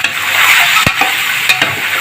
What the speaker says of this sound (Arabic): نشوحها كده نحمرها كده